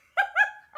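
A person imitates a dog barking, two quick harmonic "arf" yelps close to the mic followed by the start of a third, voiced alone with no other sound.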